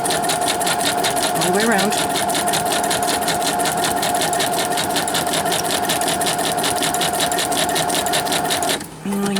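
A sewing machine stitches steadily, including a short back stitch, with a fast, even mechanical rattle that runs almost throughout and stops abruptly near the end while someone talks over it.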